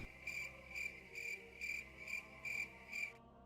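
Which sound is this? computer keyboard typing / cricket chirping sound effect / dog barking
cricket chirping sound effect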